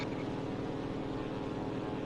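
The propeller engine of a Whirlwind Mk1 plane in the game Enlisted drones loud and unbroken with a dense, even roar, alone without voices.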